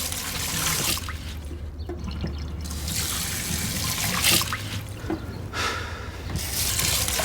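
Tap water running steadily and fairly loud, with a continuous splashing rush and brief shifts in flow, heard alone without talk.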